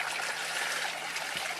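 Spring water runs steadily from a small spout, a close, continuous splashing trickle with no break.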